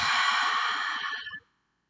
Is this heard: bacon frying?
no